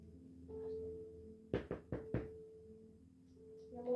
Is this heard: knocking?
yes